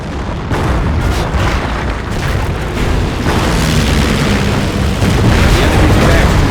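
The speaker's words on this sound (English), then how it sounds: "With this ability, Henschel aircraft will fly by the target location, targeting all enemies within their flight path." Henschel aircraft airstrike in Company of Heroes, a loud, dense rumble of overlapping explosions and booms rolling continuously, with game voices under the blasts.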